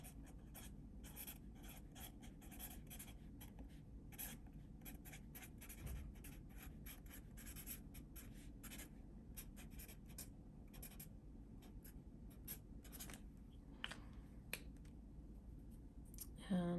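A dual-sided brush tip marker scratching and scraping across paper in quick, irregular strokes, faint and close, with steady low background hum beneath the rapid ticks of the pen tip.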